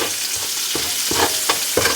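Garlic sizzles steadily in hot oil in a pot, a dense continuous frying hiss broken by a few soft stirring scrapes, close and loud, with no voices.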